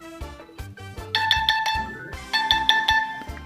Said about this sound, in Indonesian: Pada saat kita cabut, nah, dia akan berbunyi.